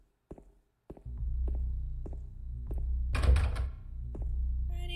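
Locked door being tried in the video game Silent Hill 2: a series of sharp knocks and rattling thunks at a steady rhythm, one louder clattering burst in the middle, over a low droning background.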